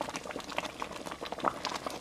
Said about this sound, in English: That is a big rolling boil, and that's what you want to thicken your gravy.